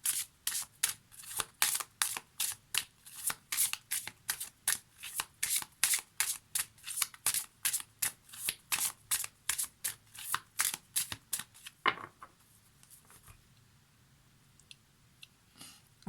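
Lenormand cards shuffled by hand for a tarot reading, a fast, steady run of close, crisp riffling bursts for about twelve seconds, then a few faint taps and near silence.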